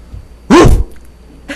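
A single loud, close dog bark, short and sharp, rises out of near silence.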